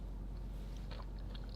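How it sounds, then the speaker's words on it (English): Crunchy bites and chewing of a Starbucks baked item with blueberries, soft close crackling bursts over a steady low background hum. "I'm going to take a bite here."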